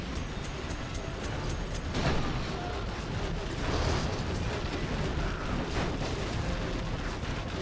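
Mines detonating an enemy outpost in a video game: a pair of muffled explosive thumps about two seconds apart, set within a steady wash of battle noise and low rumble.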